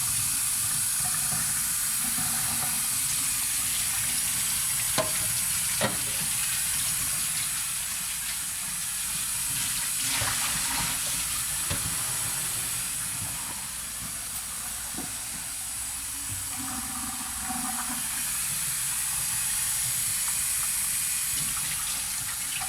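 Steady hiss of tap water running into a drain while developed film is washed, continuous and even for the whole stretch, with a few faint clicks and knocks in the background.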